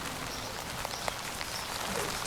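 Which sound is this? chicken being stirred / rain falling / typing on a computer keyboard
rain falling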